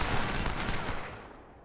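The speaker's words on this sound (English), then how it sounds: "the firefight is ongoing" A Civil War video game firefight rumbles with dense gunfire and artillery, a loud continuous volley of overlapping shots that fades out toward the end, with no talk.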